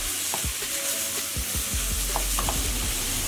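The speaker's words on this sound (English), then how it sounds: "we're going to add in about 500 grams of beef mince. And we just want to cook that up." About 500 grams of beef mince sizzles in a pan while being stirred, a steady hiss of frying broken by repeated scraping and clacking strokes of the spoon, close and fairly loud with no voices.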